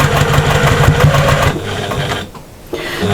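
A sewing machine stitches a patchwork shopper bag, its motor whirring with a fast, steady stitching rhythm that slows and briefly drops away before starting again, close and loud.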